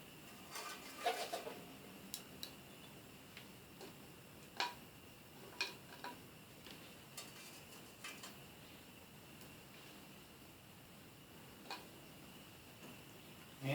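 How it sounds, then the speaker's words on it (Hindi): Sulfur being heated for purification gives off sparse, faint crackling pops at irregular intervals, a few sharp ticks scattered over a quiet, steady background. "अभी थोड़ी थोड़ी चिटक चिटक की आवाज़ आ रही है गंदक से"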